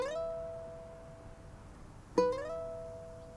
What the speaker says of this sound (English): play the bottom string 3rd fret with your pointer finger